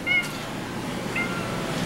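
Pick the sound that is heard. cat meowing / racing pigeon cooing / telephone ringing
cat meowing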